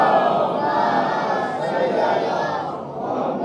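A large gathering at a Muharram majlis recites salawat loudly in unison, making a dense, steady roar of many voices that carries on without a break.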